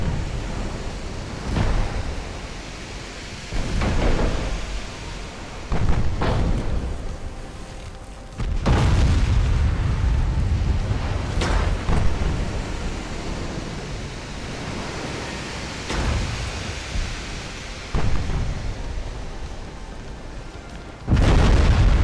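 Warship secondary guns fire repeatedly in the Ultimate Admiral: Dreadnoughts naval battle game, a series of loud, booming blasts at irregular intervals over a constant rumbling sea-and-engine background, with no talk.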